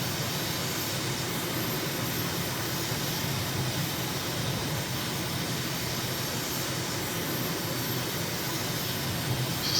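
A drone engine in Microsoft Flight Simulator, flying over Tibet near Lhasa, makes a steady broadband jet-like roar that holds at an even, moderate level throughout, with no talking.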